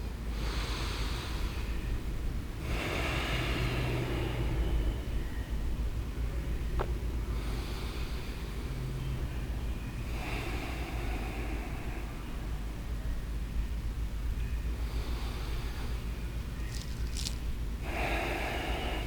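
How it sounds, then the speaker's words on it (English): Slow, deep breaths taken during a relaxing yoga flow while lying with knees bent, each long inhale and exhale swelling and fading in a steady rhythm over a constant background hiss, with no talking. "5 really big breaths."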